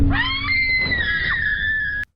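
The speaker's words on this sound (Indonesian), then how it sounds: "Sontak wanita itu berteriak." A woman in a film lets out a single sustained, high-pitched scream lasting about two seconds, loud and close, ending abruptly.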